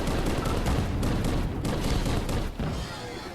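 Big guns fire in the VR shooter game Crashland VR, a dense rapid fusillade of loud booming shots that rattles on nearly continuously before easing off at the end.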